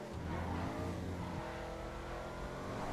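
A Baller ST SUV in GTA 5 Online accelerates hard, its engine a loud, steady roar that holds throughout and shifts pitch partway as it climbs through the gears.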